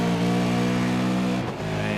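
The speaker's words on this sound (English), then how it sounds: "You hear Mostert in the background just fanning the throttle as he slid the car off the corner" A Supercar engine in a sim racing game at Spa-Francorchamps revs hard as the throttle is fanned, holding a loud buzzing tone that dips in a short stutter before picking up again.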